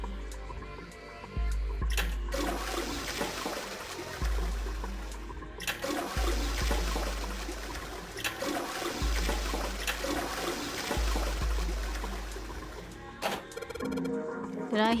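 Repeated toilet flushes in the puzzle game Zero Escape, several rushing water surges in succession with trickling refill between them, loud and close.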